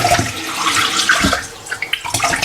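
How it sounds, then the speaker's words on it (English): Rice is washed in a pot, water sloshing and splashing in uneven bursts as the grains are stirred and rinsed, fairly close with small clattering spatters near the end. "We wash the rice several times"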